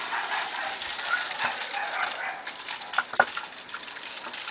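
Water pouring from the outlet of a hang-on-back filter into a beginner's aquarium, a soft continuous trickle and splash with a few brighter drips near the end, quiet and close.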